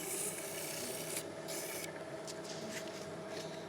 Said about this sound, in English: Right, so we're going to sand it all up now.